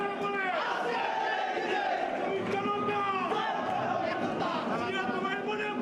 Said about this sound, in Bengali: নেতারা হল থেকে বের না হওয়া পর্যন্ত স্লোগান অব্যাহত রাখেন তারা